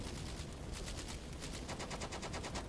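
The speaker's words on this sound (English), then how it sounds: "So some in and outgoing fire there." Dense, rapid gunfire in the WWII video game Combat Mission Beyond Overlord, with distant machine-gun bursts rattling continuously over a noisy battlefield background.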